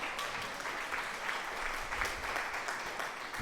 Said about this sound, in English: What about good old applause?